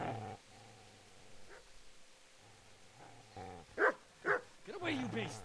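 A dog in the medieval video game Kingdom Come: Deliverance barks and growls at close range in a few sharp bursts, mixed in with game voices.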